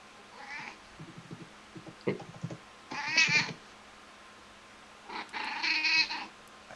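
A cat gives several meows of varying length, one short cry first and then two drawn-out, strained calls. The calls are separated by pauses, sound fairly close and stand over a quiet room.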